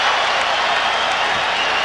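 A basketball arena crowd applauds in a steady, dense wash of clapping and crowd noise at the 1992 Bulls–Blazers championship game, loud and continuous throughout.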